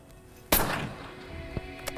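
One sharp, loud rifle shot cracks out while hunting exotic game on a free-range ranch, followed by a fading echoing tail and a couple of faint distant knocks.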